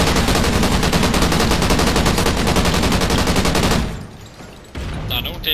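Rapid automatic gunfire in Call of Duty Ghosts: a dense, loud stream of shots for about four seconds, then a brief lull before more firing resumes.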